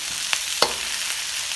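Onions and bell peppers fry in a pan for restaurant-style chilli chicken, a steady sizzling hiss broken by two or three soft stirring knocks and a sharp clack at the end.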